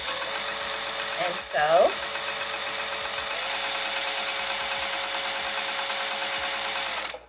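Domestic sewing machine stitching the corner of a piped Vivian bag, a steady close mechanical whirr running nearly the whole time, with a brief pause and a short spoken remark near the start.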